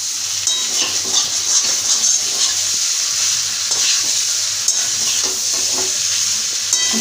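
Cauliflower being stirred into spice paste with chilli powder in a frying pan, a steady sizzle and frying hiss with repeated scraping strokes of the spoon, close and continuous without talk.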